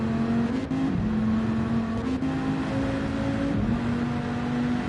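Gr.4 race cars in Gran Turismo 7, Vipers in a close multi-car online race, accelerating hard out of a corner with a steady, loud engine drone and rising tonal whine, shifting pitch through the pass with no talk.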